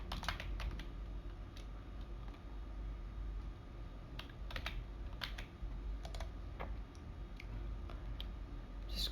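Fingers type on a computer keyboard while entering data into an Excel spreadsheet, producing quick, irregular clusters of close, crisp key clicks with short pauses between bursts over a low steady room hum.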